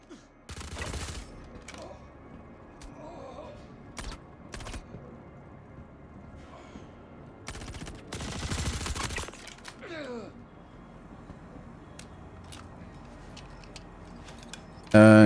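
Assault rifle fire in the game Star Citizen comes in several loud bursts and rapid volleys, separated by quieter stretches of mechanical clicks and handling noises.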